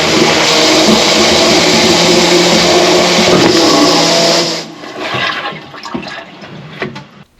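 Drain jetter running hard in a descaled drain pipe, a loud continuous high-pressure water rush and motor drone for several seconds, then cut off, leaving irregular dripping, gurgling and knocks as the water runs away.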